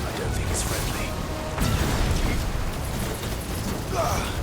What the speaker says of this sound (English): Fire Raga magic.